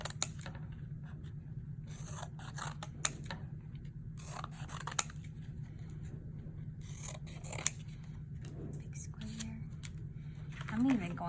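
Scissors cutting small paper shapes for a collagraph print, repeated crisp snips and blade clicks close by over a steady low hum, with soft quiet speech in the background.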